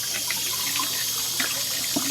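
Water is poured into an old bathtub drain, a steady close splash and trickle of running liquid that carries on without a break.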